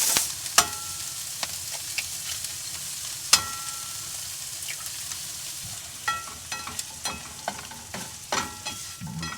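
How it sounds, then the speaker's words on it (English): Chopped vegetables fry in oil in a pan inside a winter van, a soft continuous sizzle punctuated by sharp clicks and scrapes of a spatula stirring them. "pop in our veggies, let those cook up a little bit"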